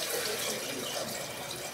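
Water pours steadily over chopped carrots in a cooking pot for beans, a continuous close rushing splash with no breaks and no voices.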